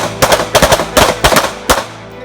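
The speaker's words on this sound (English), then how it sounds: "I want 2 rounds into the heart of each target in cadence" Loud, close gunshots at a tactical speed and accuracy shooting drill, with two rounds put into each target in cadence: a rapid string of sharp reports in quick pairs, followed by one final shot.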